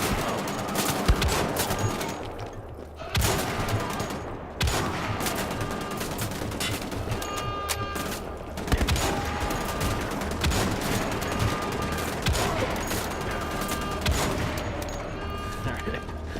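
Dense gunfire in a firefight in Wolfenstein: The Old Blood, rapid bursts and sharp shots rattling continuously and loudly, with a voice talking underneath.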